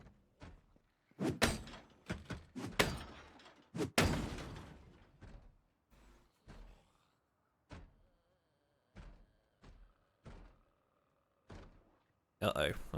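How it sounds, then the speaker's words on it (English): A zombie battering through a wooden door in Project Zomboid, a run of heavy thuds and bangs in uneven bursts, close and loud, with spaced single knocks following. "That's the sound of a zombie coming in behind me"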